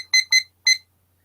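A timer alarm chirps three short, bright electronic beeps, two close together and a third after a brief gap, loud and alone against near silence.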